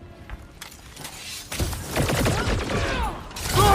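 Weapons fire in the Guardians of the Galaxy video game during a chaotic battle. The noise builds from scattered bursts into a dense, continuous barrage of blasts and mechanical clatter that grows louder toward the end.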